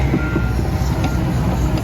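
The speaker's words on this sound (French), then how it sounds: "ça refait le terrain à la pelle." Reversing beeps from a mechanical shovel working private dirt-bike ground at day's end, heard as faint repeated tones over a steady low engine rumble.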